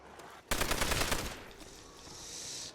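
Sustained automatic gunfire from a weapon in Call of Duty: World at War on the Nacht der Untoten zombie map, a loud dense burst lasting about a second before tailing into a fading ring.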